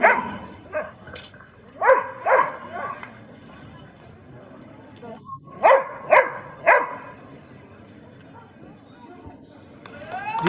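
Army police dog barking in sharp bursts during working-dog training, several loud barks in two clusters with quieter gaps between, up close with background murmur.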